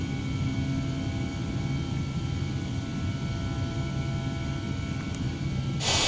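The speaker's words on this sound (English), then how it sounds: "Not a bad takeoff out of Queenstown." An Airbus A320neo climbing out after takeoff from Queenstown in a flight simulator, producing a continuous loud engine roar with steady droning tones and broadband hiss, unbroken and even for the whole stretch, with no one speaking.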